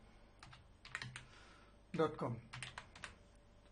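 Quiet bursts of keystrokes on a computer keyboard while typing into a browser search bar, short clusters of clicks with pauses between them, and a voice speaking over part of the typing.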